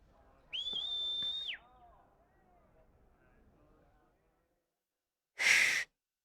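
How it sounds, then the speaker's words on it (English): A character whistles in Final Fantasy XVI: one clear, steady whistled note of about a second, followed by faint breathy sounds, silence and then a short loud noisy burst. "Did she just whistle while wearing gloves"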